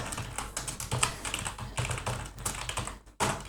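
Rapid typing on a computer keyboard while writing a simple Python script, a dense run of close clicking keystrokes with a brief pause near the end before the tapping resumes.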